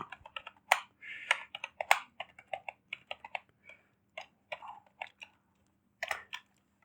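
Numbers typed on a computer keyboard, with quick irregular bursts of close, crisp key clicks and short pauses, no voices.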